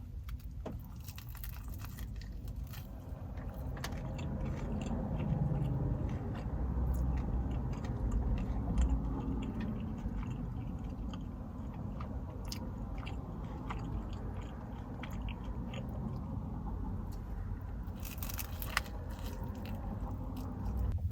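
Bites and chewing on a pesto and tomato sandwich with a dusting of salt on top, eaten in a restaurant; close, crunchy mastication and soft crackle run steadily over a low room rumble with no talk.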